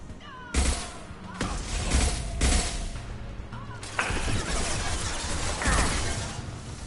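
Gunfire in the video game Mass Effect 2 comes as loud, harsh blasts several times in quick succession over a dense, noisy battle background.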